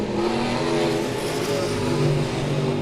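USRA B-Modified race cars roar around the Monett Motor Speedway oval during a weekly heat race, several engines droning and revving together at a steady, loud, fairly close level.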